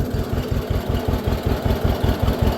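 A tractor engine runs as the machine moves off slowly in first gear, a loud, steady low chugging with an even, rapid pulse close by and no talk over it.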